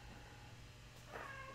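A cat gives a single faint, drawn-out meow against a steady low background hum.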